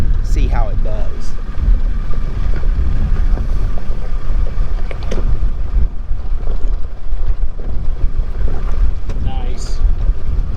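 A lifted Suzuki Samurai on big tires idles up a small hill off-road, its low engine rumble steady and close beneath heavy wind buffeting on the microphone, with people talking briefly over it.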